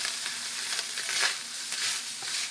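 Pieces of pork frying in hot oil in a pan at medium-high heat, a loud, continuous close sizzle with small crackling bursts and no talk.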